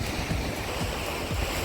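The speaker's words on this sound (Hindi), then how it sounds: "शोर सुनिए यहाँ पे लहरों का।" Sea waves washing onto the beach at Mahe, a broad, steady roar of surf with low rolling surges and some wind buffeting the microphone, close and loud with no voices.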